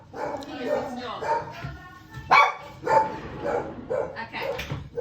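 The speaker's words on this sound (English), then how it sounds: "you have a wild, rabid dog" Excited dog barks and yips burst out in a quick series close by, mixed in with people talking in a room.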